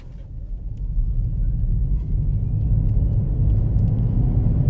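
A small hybrid car accelerates hard in Sport mode, its engine and road rumble rising steadily into a loud, sustained drone with a faint climbing whine, heard from inside the cabin with no talking.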